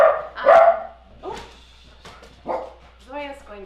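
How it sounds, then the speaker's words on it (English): A pet dog named Zoya gives a few short barks and yips with a whimpering, sing-like quality, close by and moderately loud, mixed with people talking nearby. "Zoya's going to sing an audition for us now, our dog"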